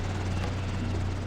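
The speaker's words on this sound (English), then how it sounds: "There goes our helicopter." Helicopter in the video game Ghost Recon: Island Thunder, a loud steady rotor drone with a low thumping hum throughout a short moment; no voices.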